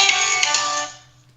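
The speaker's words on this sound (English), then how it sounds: "Oh, look who doesn't have their phone on silent now, boy." A phone ringtone plays loud and close for about a second, a bright electronic tone that cuts off and fades quickly.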